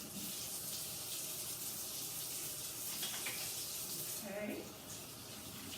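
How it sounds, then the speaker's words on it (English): Tap water running steadily into a sink during handwashing before cooking, a constant hissing gush with a brief change in the splash near the end, and a voice speaking briefly over it. "Before we do that, I'm going to wash my hands."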